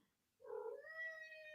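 A house cat gives one drawn-out meow, close and clear, rising and then holding a steady tone after a moment of quiet.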